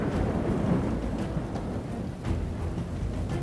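Thunderstorm in the strategy game Rome Total War: dense, steady rain hiss with a low rolling rumble of thunder underneath, continuous and fairly loud throughout.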